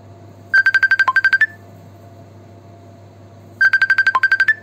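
A phone ringtone signals an incoming call in a home kitchen during coconut cake baking, two bursts of rapid repeated electronic beeps separated by a pause, clear and fairly close over a low steady hum.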